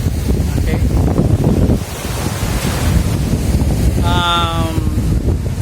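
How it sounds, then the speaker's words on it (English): Surf on the coast of Bislig, Surigao del Sur, a steady broadband wash of breaking waves heavily buffeted by wind noise on the microphone, with a brief tonal whistle-like sound near the end. "You can see some waves on this area"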